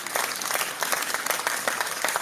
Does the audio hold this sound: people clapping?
yes